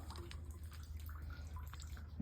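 Fuel dribbles slowly from a Jeep's removed fuel tank during a fuel pump replacement, heard as faint, scattered drips over a steady low hum, with no talking.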